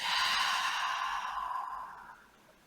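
A long, steady breath out during yoga breathing practice, a soft airy exhale that holds even and then fades away over nearly three seconds, quiet and close with no talk.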